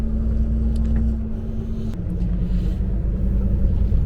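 A truck drives along a road in heavy rain, a steady deep engine rumble with road and rain noise running continuously throughout, without speech.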